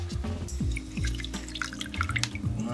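Water drips and splashes while an RC nitro air filter is being rinsed, with quiet, irregular droplets and trickling falling close by and no talk.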